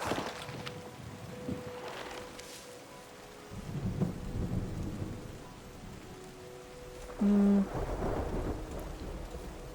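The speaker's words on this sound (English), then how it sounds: "There's the rain again." Rain and rolling thunder in the terraforming game Terra Nil, a steady downpour with low rumbles building and fading, joined by a brief tonal game cue near the end, no talking.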